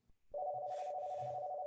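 A telephone rings with a steady electronic tone that starts abruptly and holds continuously, fairly faint and alone, with no voices over it.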